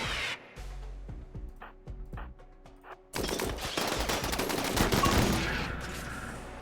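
Rapid gunfire bursts erupting in the RimWorld video game, dense and loud after a quieter stretch of scattered sharp cracks, continuing as a sustained barrage.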